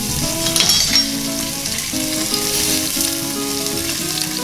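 Slit green chilies and ginger garlic paste sizzle steadily in hot oil with whole cinnamon, cardamom, clove and jeera for chole masala, a close, continuous crackling hiss over faint background music.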